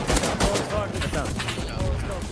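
Rapid bursts of gunfire ring out in the survival game Rust during a base raid, loud sharp cracks in quick succession while people talk excitedly over them.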